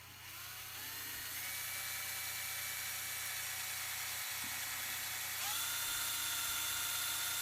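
Small drill boring guide holes for threaded bolts into guitar wood, a steady high whine running nearly continuously near the mic, with a slight pitch shift partway through, during an acoustic guitar rebuild.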